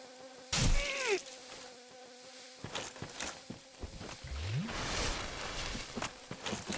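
Swarming mosquitoes in Dark Souls' Blighttown give off a continuous insect drone, broken by several loud bursts and sweeping game effects, with no talking over it.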